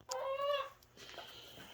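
An injured hen clucking close by, giving a couple of short, tonal squawking clucks in quick succession, then quieter rustling.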